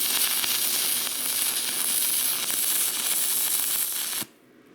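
Arc welding at 150 amps with a Simder SD-4050 Pro welder: a steady, loud crackling sizzle runs unbroken for about four seconds, then cuts off abruptly into near silence.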